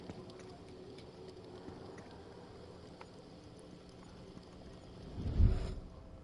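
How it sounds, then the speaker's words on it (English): Footsteps in a video game follow a slow, irregular clip-clop rhythm, faint and close, with a louder thud near the end. "Yeah, my footsteps sound weird."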